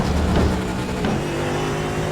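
A GT3 race car engine in the iRacing sim drones loudly and steadily, holding a sustained, slightly varying note with no voices.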